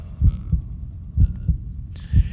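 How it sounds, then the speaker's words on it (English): Steady, muffled heartbeat pulsing in double thumps, low and close, with a faint hum and a brief higher tone near the end. "It was the beating of the old man's heart."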